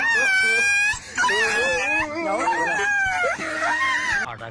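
A small dog whimpers and yips in drawn-out, wavering cries, loud and close, almost without a break, after a larger dog has pulled it away.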